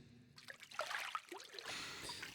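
Pool water trickles and laps softly up close in a quiet ASMR setting, a few gentle splashes and dribbles after a near-silent start, ending in a faint steady wash.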